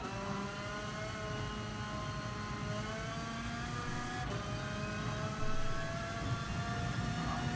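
Car engine in Gran Turismo Sport, a steady high droning whine with rising harmonic lines as it accelerates, loud and continuous throughout with no talk over it.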